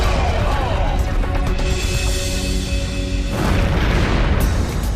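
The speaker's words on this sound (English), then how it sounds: "No one is injured when the Delta II rocket explodes." A Delta II rocket explosion, heard as a sustained, loud roaring rumble that fills the whole stretch, with a sharper change partway through and no voices.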